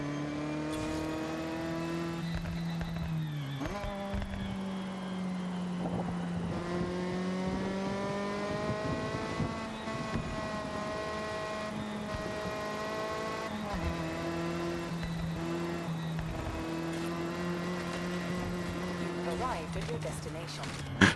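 A Honda CR-X engine in Forza Horizon 6 drones and revs through a sequence of corners, its pitch dipping on lifts and climbing again on acceleration, steady and prominent with someone talking over it.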